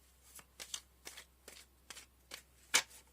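Tarot cards are shuffled in a steady series of about seven crisp riffling bursts, close and moderately quiet, the last one loudest, with no talking.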